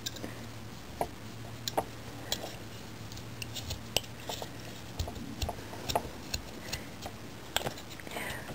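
Knife scooping and carving out wood by hand, a series of faint, irregular scraping clicks and small cuts at close range, quiet throughout.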